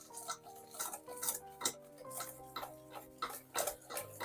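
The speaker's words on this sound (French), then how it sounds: "mon œuf, mon sucre, ma poudre à crème, je mélange, je blanchis" Egg, sugar and custard powder being whisked in a bowl, with brisk repeated metal-on-bowl clinks and scrapes in an uneven rhythm over background music, close and moderately loud.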